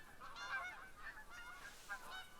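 A goose honks repeatedly in theHunter: Call of the Wild. The honks come in a steady series of nasal calls at moderate distance over a constant outdoor ambience, with no talking.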